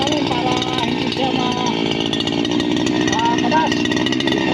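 A grass cutter runs steadily at close range, clearing overgrown weeds around coffee plants, its engine drone constant throughout with faint higher tones riding over it.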